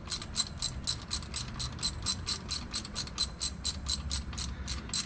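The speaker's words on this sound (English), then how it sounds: "we're just going to get these bolts off, and it should drop that water pump right off of there" A hand ratchet clicks in quick, even bursts while loosening bolts on the water pump of a John Deere 6600 tractor, with close, sharp metallic pawl ticks repeating steadily throughout and no talking.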